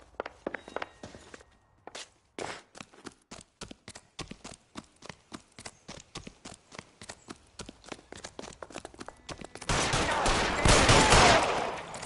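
A film shootout: a rapid series of sharp gunshots cracks out in an irregular burst, ending in a louder, denser volley of noise, with no talking.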